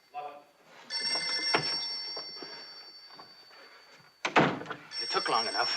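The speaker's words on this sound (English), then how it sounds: "That phone's been driving me crazy." A telephone bell rings in bright, sustained bursts in a room, with a second ring coming after a pause. Footsteps, a door and movement noises happen between the rings, and there is no clear speech.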